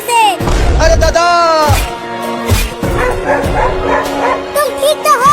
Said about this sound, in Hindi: देखो एक और कुत्ता भी जा रहा है तुम्हें काटने के लिए